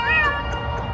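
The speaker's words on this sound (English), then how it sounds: "these are very dangerous cats. Feral cats." A feral cat gives a single close, loud drawn-out meow that fades off within a second.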